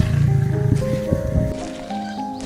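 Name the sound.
lion roaring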